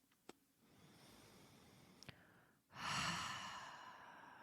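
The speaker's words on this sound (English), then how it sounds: "taking a few deep breaths to breathe with them" Deep breathing during meditation: two faint clicks come first, then a soft, sustained airy inhale or sigh swells up near the end, close and quiet with no talking.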